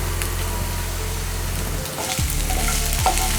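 Coriander fried rice mixed with fried cashews is stirred in a hot pan, making a close, steady sizzle broken by a few sharp scraping stir strokes, with no voices.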